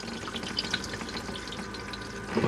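Flush of a Fedford cassette toilet in a Hymer motorhome, a close, steady rush of running water lasting a couple of seconds with a slight gurgle at the end, with no talking.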